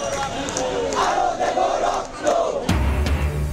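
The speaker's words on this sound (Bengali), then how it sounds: "শাস্তি দাবিতে স্লোগান" A crowd of protesters in Bangladesh chants slogans in unison demanding punishment for killings. The voices rise and fall together, loud and close, and then cut abruptly to a low rumble.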